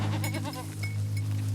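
Goats on pasture bleating, several quavering calls in quick succession close by over a steady low hum, with no talk.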